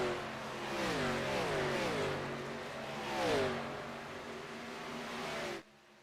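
ARCA Series race cars roaring past on the Milwaukee track, several engines rising and falling in pitch as they sweep by in a pack, loud and close, before cutting off abruptly.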